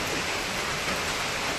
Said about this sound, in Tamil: தெரியுதா மழை பெய்யுறது?